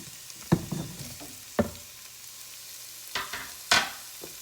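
Sausage and onion sauté in a pan for Zuppa Toscana, giving a soft, low sizzle broken by a few sharp clacks and scrapes of stirring.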